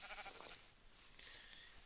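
White sheep being sheared in Minecraft, with blocky game sound effects and a bleat, arriving in two short bursts of roughly equal loudness with no talking.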